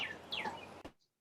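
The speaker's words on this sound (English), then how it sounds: "the bird sounds really nice" A small bird chirps faintly in the distance, a few quick rising and falling notes over quiet room noise, ending abruptly.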